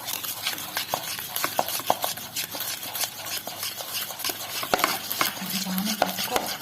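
A spoon slowly stirs butter and powdered sugar in a bowl for a mango cake, making a continuous close scraping and clicking with soft irregular taps.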